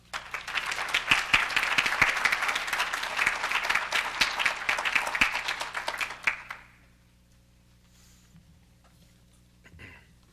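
Audience applauding to welcome a speaker at a forum, a dense burst of clapping from a crowd for about six seconds that quickly fades, followed by near silence with a faint stir.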